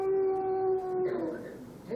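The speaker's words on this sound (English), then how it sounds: "Sounded almost like a wolf." A dog or wolf howling, one long steady high note that slides down and fades into a lower moan, heard close and fairly loud in a community play.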